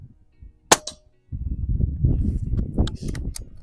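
A Pinty air rifle fires a pellet at metal spinner targets on a range, one sharp crack followed by a brief ring, then a stretch of low rumbling noise with small clicks.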